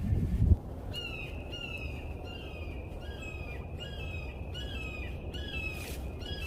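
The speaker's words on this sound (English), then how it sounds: "I wonder if that hawk has a nest around here and it's trying to scare me out of here is why it's yelling so much" A hawk calling repeatedly near a nest, a series of sharp, piercing screeching cries at moderate distance outdoors, with a brief thump at the start.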